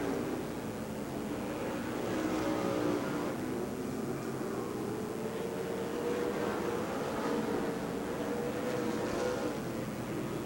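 Stock car engines roar at Rockford Speedway, a short track, during a 1997 Northern Series 200 night race. One car rolls off power down the front straight amid a steady, dense wash of engine and crowd noise.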